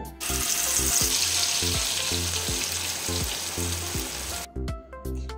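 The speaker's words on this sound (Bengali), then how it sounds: "কালো জিরেটাকে নেড়ে চেড়ে ভেজে নেব" Black cumin seeds fry in hot oil while being stirred: a loud, steady sizzle runs throughout, with rhythmic pulsing music beneath it.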